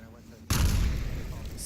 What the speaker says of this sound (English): C4 set off.